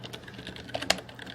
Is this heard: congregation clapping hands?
no